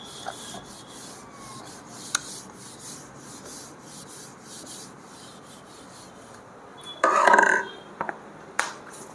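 Board being rubbed clean with an eraser: a brief rasping scrub of about a second, moderately loud against a quiet room, followed by a few faint taps.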